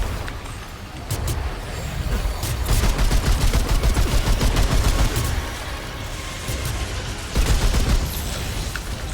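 Rapid bursts of automatic gunfire in the video game Remnant 2, dense repeated shots in several volleys with brief pauses between them, loud and close.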